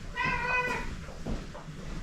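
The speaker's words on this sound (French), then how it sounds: "je vais mettre le chat dehors parce que depuis tout à l'heure, elle n'arrête pas de rouspéter" A female house cat named Mia meows in a grumbling, complaining way, with one clear close meow followed by quieter fussing sounds over a soft room background.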